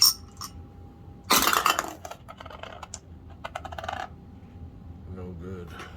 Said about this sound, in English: Rolling 2 dice, looking for 2s.